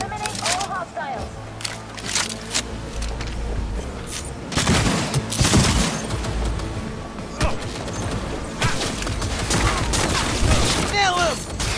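Rapid gunfire volleys and booms in a Cyberpunk 2077 final-mission firefight, loud bursts that keep recurring, with several voices shouting over the shooting.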